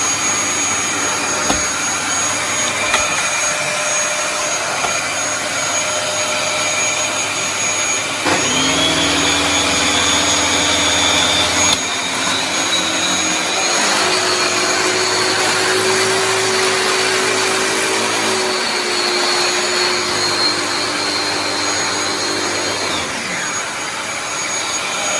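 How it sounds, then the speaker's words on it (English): A Dyson DC21 Motorhead vacuum with its motorized power head switches on partway through, a loud steady whine with a jet-like roar that holds close and constant, then dies away near the end. "The power head as well is quite noisy. If we switch this one on and find out,"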